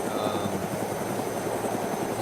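Rotor thump of a helicopter in the ArmA II Day Z game, a steady rhythmic chop with engine drone holding at a constant level throughout.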